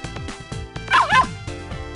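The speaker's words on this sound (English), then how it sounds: "Her pet dog appeared from nowhere." A pet dog in the video game Ever17 gives a few quick, yappy barks and yips in a short burst, with game music playing underneath.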